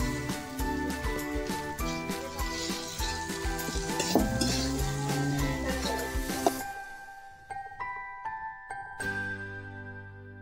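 A spoon stirs chopped onion frying in a pan while preparing dhapata, with soft sizzling and clinks of metal under background music that fades partway through.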